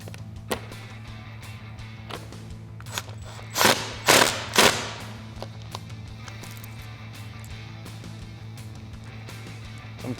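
A power gun runs bolts into a Mustang front bumper during a GT500 style install, a few short buzzing bursts clustered midway, loud and close over a steady background hum and scattered clicks.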